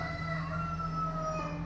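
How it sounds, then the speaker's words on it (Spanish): A rooster crows in one long, sustained, tonal call that holds steady for nearly two seconds, heard at a moderate distance over a low background hum. "Ese gallo está inspirado hoy, hermano."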